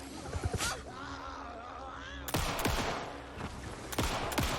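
Shotgun blasts in the video game Alan Wake II, a series of sharp booming shots, one early and a rapid burst of several later, loud and close over ambient game sound.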